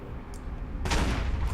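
Shotgun blasts go off in the video game Alpha Protocol, with a sharp, loud burst after a quieter stretch, heard alone with no talk.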